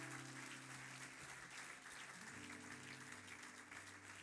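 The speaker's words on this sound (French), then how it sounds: "Can we clap for yourself?" Audience applause at a family marathon church celebration, a steady wash of clapping that fills the whole stretch with a low hum underneath, even and sustained from start to finish.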